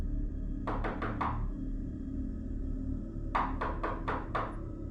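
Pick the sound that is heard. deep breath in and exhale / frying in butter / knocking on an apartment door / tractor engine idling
knocking on an apartment door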